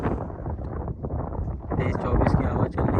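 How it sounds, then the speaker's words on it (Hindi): Wind buffets the microphone outdoors during kite fighting in Jeddah, a continuous low rumbling gusty roar with voices talking underneath. "तेज 24 की हवा चल रही है"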